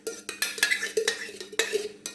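A spoon scrapes and clinks against a bowl while raita is stirred and mixed, giving a quick series of sharp metallic taps and scrapes at close range, with no talking.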